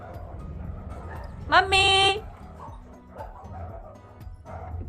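Dogs give a short burst of high, whining yelps lasting about half a second, fairly close, amid a person talking and calling out indoors.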